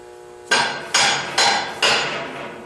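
Hammer tapping on a tight, press-fit fan spacer on a spindle, five sharp metallic strikes in a slow, even rhythm, close and loud, each ringing briefly before the next.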